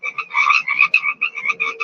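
Frogs croak in quick rhythmic pulses, loud and near, a continuous chattering chorus with short breaks between bursts and no talk.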